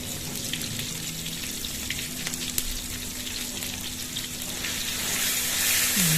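Spices and chili powder sizzle in hot oil in a pan, an unbroken hissing crackle that holds steady and swells a little louder near the end, with no voices over it.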